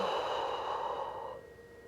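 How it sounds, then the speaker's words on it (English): A slow, deep breath drawn in and released during a gentle stretching exercise, a close, soft airy rush that fades away toward the end. "Big breath in. Exhale."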